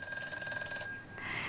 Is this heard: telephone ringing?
yes